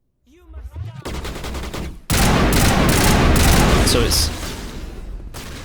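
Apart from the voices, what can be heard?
assault rifle gunfire in the video game Mass Effect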